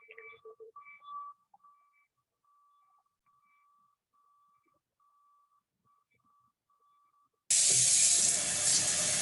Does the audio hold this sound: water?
yes